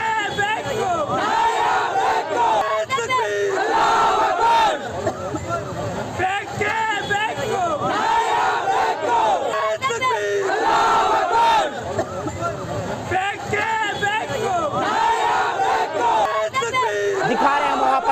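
Rioting crowd in Bengaluru chanting and shouting slogans, a dense, loud roar of many voices in rhythmic bursts, rising and falling without pause.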